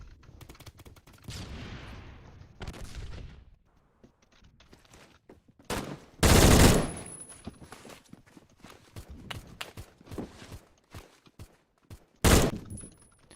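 Sharp, loud gunshots crack out in a video game, a few isolated blasts spread across the stretch with the strongest near the middle and another near the end, amid scattered softer impacts and faint movement.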